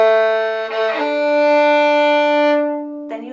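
A violin demonstrates late string crossing, a sustained bowed tone where the lower G string keeps sounding briefly as the bow shifts to the next string, followed by a short restart near the end, played alone.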